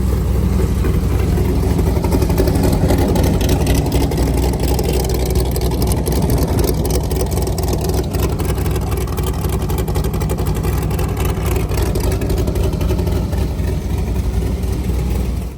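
A port-fuel-injected LS3 V8 on an airboat runs steadily at idle, a loud, close, unbroken low rumble with a fan-like whir layered on top, holding even throughout.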